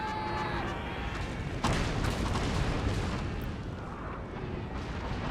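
Cannon fire on a battlefield in Napoleon Total War, a dense roaring barrage of booms and rumbling blasts with one heavier thump partway through, loud and continuous.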